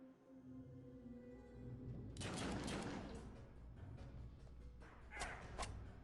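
Video game gunfire against raiders, a dense burst of rapid shots lasting a couple of seconds, then a few more sharp shots, faint over a quiet background tone.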